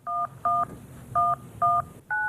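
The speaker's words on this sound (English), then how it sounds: "Even the touch tones from the keypad are disguised." Touch-tone telephone keypad beeps: five short, clear DTMF tones pressed one after another at an uneven pace. They sound fairly close, over a faint background hiss.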